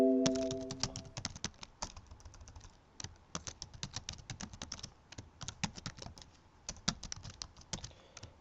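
Rapid keystrokes on a computer keyboard while a program is written, a steady run of sharp clicks in uneven bursts with short pauses, close and fairly quiet, with no talk.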